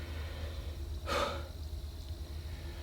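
A hunter's hard breathing after dragging a deer while carrying a camera and gun, a single loud gasping breath standing out midway over steady low outdoor rumble.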